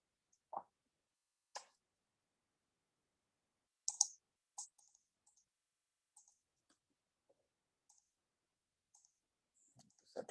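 Mouse clicks on a register button on a computer: a few sharp, isolated clicks spaced several seconds apart, then fainter ticks, close and quiet in an otherwise silent room.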